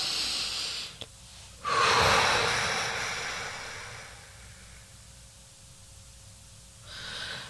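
Slow, deep breaths during a guided meditation, a long audible inhale followed by a gradual exhale, close and clear with a brief click before and another breath starting at the end.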